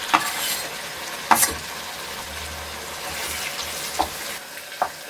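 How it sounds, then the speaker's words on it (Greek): Garlic sautéing with softened onions in a pan gives a steady close sizzle, broken by a few sharp clicks of stirring; no voices. "Θα το αφήσουμε να τσιγαριστεί για 1 λεπτό περίπου"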